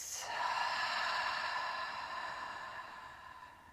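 A single long, breathy exhale out through an open mouth during a hip-opening yoga flow. It is close and soft, fades slowly over a few seconds and is heard alone.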